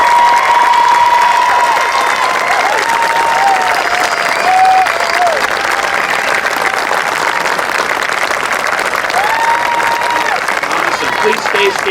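Sustained loud applause from a large audience congratulating the Class of 2021 at a Beekmantown CSD graduation, steady clapping filling the whole stretch with crowd noise and a voice faintly over it.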